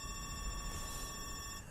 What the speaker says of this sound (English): Phone ringing.